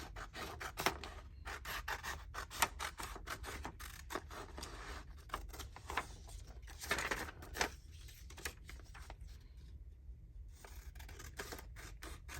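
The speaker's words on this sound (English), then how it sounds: "Let's cut out another set because I'm going to need quite a lot." Paper being cut into pieces with scissors for handmade Christmas journal bags, a steady run of close, dry snips and rasping rubs with brief pauses between cuts.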